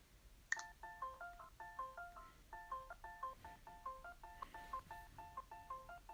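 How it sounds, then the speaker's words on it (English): Phone notification chimes arrive one after another in a steady run of short two-tone beeps, repeating roughly every half second. A brief click opens the sequence, with no talking. "And now all my notifications are coming in."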